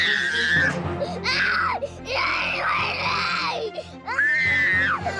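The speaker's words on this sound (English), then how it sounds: "He was screaming, he was yelling, he was fighting" A young boy screams and cries while refusing to wear his shoes, in loud, wailing bursts with rising and falling pitch, up close and separated by brief gasps.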